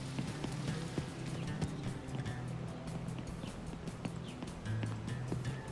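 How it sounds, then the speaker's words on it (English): Footsteps of someone walking inside a building in the survival game Deadpoly: a quick, steady patter of steps over a low hum of ambient game sound. "I hear walking in this building."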